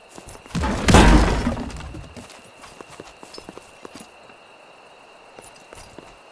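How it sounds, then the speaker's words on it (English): Footsteps thud dully over a hidden chamber beneath the floor in Expeditions: Rome, a loud crunching impact followed by a run of softer, muffled steps, near and without talk. "Listen, there's a dull quality to our footsteps here."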